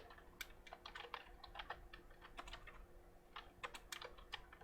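Rapid, irregular clatter of keys on a computer keyboard, close and fairly quiet, steady for several seconds with no voices over it.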